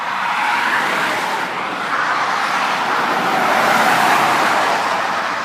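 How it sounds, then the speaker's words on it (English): Traffic streams past on a four-lane controlled-access freeway, a continuous loud broadband roar of tires and engines heard from a bicycle trail crossing in the middle of it. "it's pretty cool to be sitting here in the middle of all this traffic on my bicycle"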